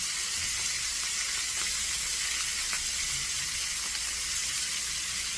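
Sausage frying in a pan on a stovetop alongside peppers and onions, giving a steady, close, dense sizzle that holds throughout with faint crackles and no talking.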